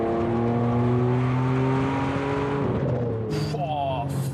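A Ferrari 575M Maranello's V12 engine pulls hard at full throttle, a loud, sustained multi-toned howl with steadily climbing pitch, then a brief drop and a renewed rise near the end.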